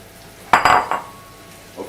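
Raw prawns tipped into a hot pan of melted butter and black pepper: a loud clattering splash and sizzle that bursts out, surges for about half a second, then settles to a low hiss, with a faint clink near the end.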